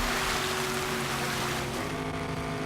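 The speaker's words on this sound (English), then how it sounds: "but here we go, through the water." A rally car in the Gravel racing game ploughs through water, a loud, continuous wash and splash over a droning engine, easing slightly toward the end.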